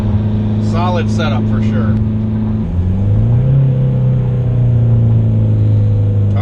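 Turbocharged Honda Prelude with an F20B engine pulling hard from second into third gear, a loud steady drone that dips at the shift then climbs again, with someone talking briefly over it early on.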